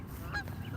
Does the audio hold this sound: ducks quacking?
yes